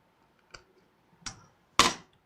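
A cable being pushed into the front USB port of an HP Pavilion Wave desktop PC: three separate sharp plastic clicks and scrapes, the last one loudest, close up with no talking.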